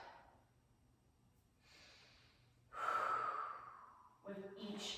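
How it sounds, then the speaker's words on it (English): A loud, drawn-out exhale during a low yoga lunge on a mat, following softer breaths, then a voice speaks over the last moment. "And a big breath out"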